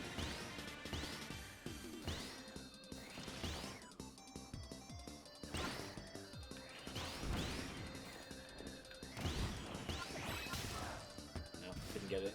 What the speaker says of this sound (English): You'd think smashing into it at an incredibly high velocity would be enough